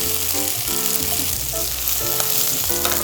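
Yakisoba noodles fry in about two tablespoons of oil, crisping on the surface with a loud, dense sizzle and crackle close up, and faint clinks of stirring on top.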